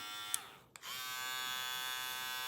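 An electric hair trimmer, a Stylecraft Flex or JRL 2020T clipper, runs with a steady, subdued buzz, cutting out briefly near the start before settling back into an even hum.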